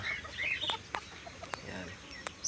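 A serama hen clucks in short, soft, irregular calls close by, with a few sharp higher chirps from chicks or other birds mixed in over a low room hum.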